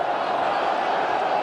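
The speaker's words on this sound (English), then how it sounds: "The crowd has picked up." Rugby crowd at an Ireland v England Six Nations match in 2005, a steady, dense roar of voices and cheering filling the stadium without letting up.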